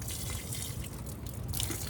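Water splashing and dripping onto stressed squash plants in a home garden, a steady close wash of droplets and trickling without pause, no voices.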